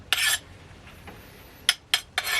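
A hardened, freshly quenched knife blade scrapes in short, bright metallic strokes, one rasping pass followed by three quick scratches in a quiet workshop.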